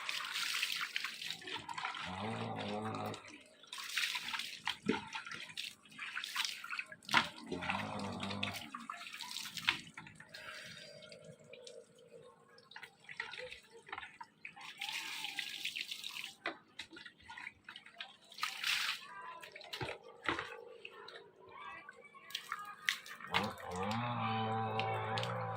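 Water splashes and pours while someone bathes, with repeated bursts of running and splashing water separated by quieter dripping gaps, close and fairly soft throughout.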